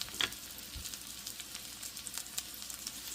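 Garlic and chicken browning in a pan for an Italian garlic chicken dish, giving a soft, steady sizzle with a few brief crackles, fairly quiet and with no voices.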